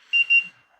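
A handheld carbon monoxide meter's alarm sounds two short, close, fairly loud electronic beeps in quick succession, then falls quiet.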